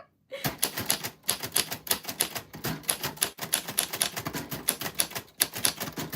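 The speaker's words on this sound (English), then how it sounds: "We are using this vintage typewriter for Friday night type night" A vintage typewriter clatters through rapid, uneven keystrokes at close range, the bursts of clacks broken by brief pauses and occasional louder strikes, with no talking.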